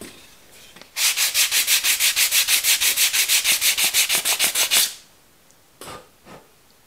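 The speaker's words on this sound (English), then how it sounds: "So you can sand them down a lot, and you can also round the corners" Close, loud hand sanding on a DIY 21700 parallel box mod enclosure, about twenty rapid, evenly spaced rasping strokes in a steady back-and-forth rhythm, then a few lighter scuffs afterward.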